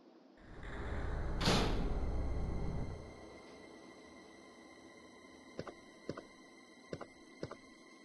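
A door opens in Resident Evil 2, with a heavy sliding scrape rising and fading over about two seconds, followed later by a few faint mechanical clicks over a quiet ambient hum.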